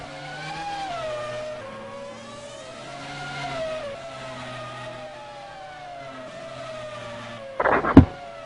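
A racing car engine in a sim racing game at the Hungarian GP in Budapest drones and rises and falls through gear changes, steady and mid-distance, ending with a brief sharp burst of noise.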